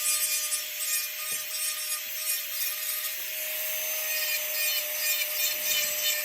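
A plaster dental model being trimmed for a temporary front-tooth bridge, a continuous high-pitched grinding whir from a small rotary tool, with a steady faint tone underneath and no talk.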